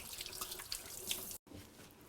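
Water runs from a faucet into a sink during handwashing, a steady quiet splashing that cuts off abruptly for a moment before resuming.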